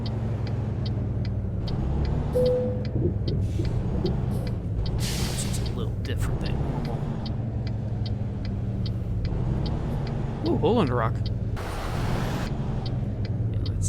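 Heavy truck engine drones steadily through a relaxed American Truck Simulator drive, low rumble constant, with a short air-brake hiss or two breaking through while a person talks over it.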